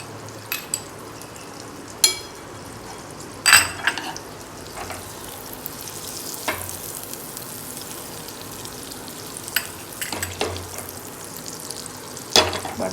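Butter melts in a hot pan with a soft, steady sizzle, broken by a few louder clinks and scraping knocks of utensils against the pan.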